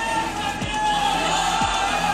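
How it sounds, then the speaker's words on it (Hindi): A street crowd near a police barricade outside a ground shouts religious slogans at a protest, a dense, steady roar of many voices that carries through the whole stretch without pause. "इस पर भीड़ ने धार्मिक नारे लगाए।"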